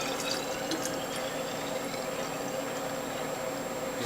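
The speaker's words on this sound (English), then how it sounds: "Now let's put this into bottles" Freshly made garden vegetable juice from a Whole Health Foundation juicer pours steadily into bottles, a continuous close liquid stream with small splashes and no talking.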